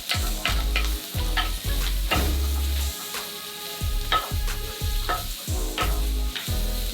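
Spinach wilting in a hot pan while being stirred, repeated scraping strokes over a steady close sizzle, with no talking.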